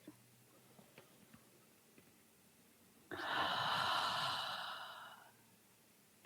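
During a guided meditation, a long, slow breath is drawn in near the microphone, a soft airy rush lasting about two seconds after a quiet pause with faint ticks.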